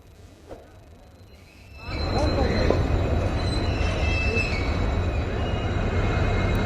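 An oxygen express train hauling oxygen tankers arrives at Delhi Cantt railway station: a steady, loud rumble of wagons rolling past builds after a quieter opening and carries on with faint wheel squeal and clatter.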